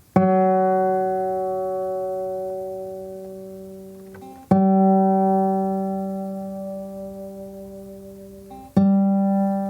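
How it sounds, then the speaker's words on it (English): Three plucked guitar notes on the G string, each ringing out and slowly fading before the next pluck, with a slight pitch shift as it is tuned. "nice steady notes being played from the guitar"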